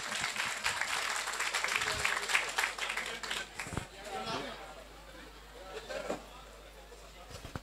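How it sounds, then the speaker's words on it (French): Audience ovation at a French-speaking gathering: a burst of applause that swells and fades over several seconds, mixed with a host talking and crowd chatter. "Une ovation pour elle s'il vous plaît."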